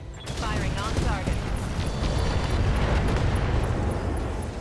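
Mech weapons firing in the RogueTech battle game, a dense, continuous barrage of gunfire and blasts rumbling loudly for several seconds, with whining mechanical tones and speech faintly underneath.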